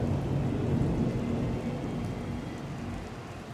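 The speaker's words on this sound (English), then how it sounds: "Thunder and lightning." Thunder and rain in the Golden Lap racing video game, a steady low rumble with a dense wash of falling rain that eases slightly toward the end.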